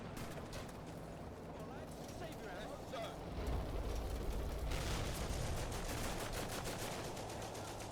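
Video game gunfire from Combat Mission: Afrika Korps aimed at an infantry squad, a dense crackle of distant small-arms and machine-gun bursts mixed with battlefield rumble that grows heavier midway.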